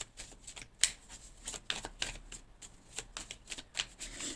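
A deck of cards is riffle-shuffled and cut during a tarot reading: a quick series of crisp, close ruffling bursts with soft slaps between them, and no talking.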